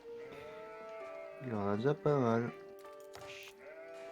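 Sheep bleating in a video game, two drawn-out wavering cries in quick succession, with someone talking over game background sounds.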